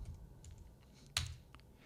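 A computer keyboard types a section name in the MeisterTask app, with a few soft, quiet keystrokes and one sharper click in a short, still moment.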